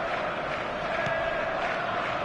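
Stadium crowd in the eFootball video game, a steady broad roar of many voices that swells slightly, heard alone at an even level throughout.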